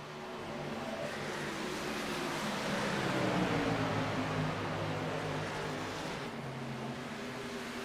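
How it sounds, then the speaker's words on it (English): Racing trucks in a truck series race roar around the track, a dense and steady engine drone with layered revving that swells slightly midway, loud and continuous with no voices. "We got trucks all over this track."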